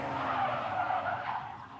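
A car skids hard into an almost complete 360-degree spin on a driving-course practice run, its tires squealing in one loud, continuous screech that fades slightly at the end.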